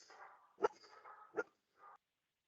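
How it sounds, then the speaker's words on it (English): A pet dog indoors lets out two sharp, loud barks with whining, muffled vocal sounds around them, then trails off into a short final grumble and silence. "my dog has heard something outside and wants to let everyone know he's around"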